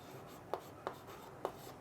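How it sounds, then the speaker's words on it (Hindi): Chalk or pen tapping and scratching out the quadratic formula during a Class 10 maths lesson, with three sharp, evenly spaced strokes over a faint, steady room hiss. "द्विघाती सूत्र यहां हम लिखेंगे"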